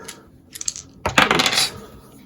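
Plastic dice in a Raspberry Pi dice-rolling rig are scooped up with a few light clicks, then tumble and clatter in a bright rattling burst that quickly settles, close by with no voices.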